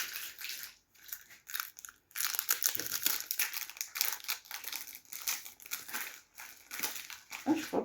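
Foil Pokémon card booster pack torn open and handled, with dense crinkling and crackling of wrapper plastic in bursts, close and fairly loud, with brief pauses between handling.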